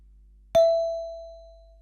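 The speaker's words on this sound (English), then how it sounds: "So E on the musical alphabet sounds like this." A single chime bar is struck on the note E, ringing out clearly on its own with a long, slowly fading tone after the initial strike.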